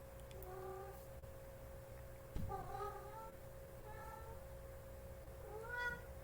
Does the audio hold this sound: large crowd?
no